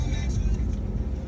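A 1999 Dodge Durango SLT with the 5.9L Magnum V8 and 105K miles, heard as a steady, deep engine rumble from inside the cabin while cruising, constant and fairly loud with no one talking.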